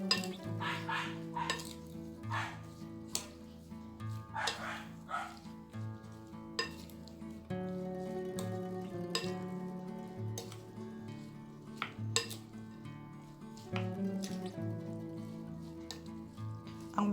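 Seaweed salad tossed with white sugar in a bowl, giving a steady run of soft clinks and scraping stirs against the bowl, with a dog barking now and then in the background.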